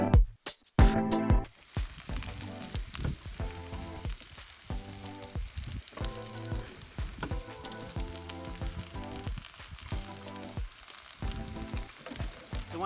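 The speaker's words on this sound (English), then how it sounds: "So we just want to cook our onions until they are nice and translucent." Onions frying in a pan at a campsite crackle and sizzle steadily, a continuous hiss under faint intermittent background tones.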